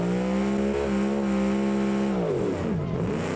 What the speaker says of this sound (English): Try to control our throttle up the hill.